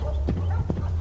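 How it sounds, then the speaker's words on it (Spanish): A horse trotting on pavement at night, a few clip-clop hoofbeats over a low steady rumble, fairly close. "Y luego se escuchó el trotar de un caballo."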